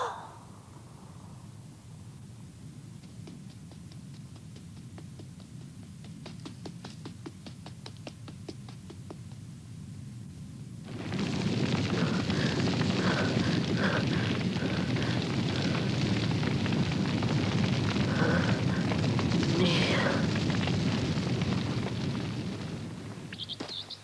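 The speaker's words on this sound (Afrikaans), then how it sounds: "Ek sou nooit in my wildste drome kon dink dat so 'n ontploffing moontlik is nie." A big explosion in a Moomin cartoon, set off by petrol: a quieter stretch of low rumbling background gives way abruptly midway to a loud, sustained broadband roar that holds steady for over ten seconds before easing slightly at the end.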